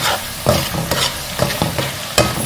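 A spoon stirs cooked tomatoes in hot oil in a pan, loud close scraping strokes repeating every half second or so over a continuous soft sizzle.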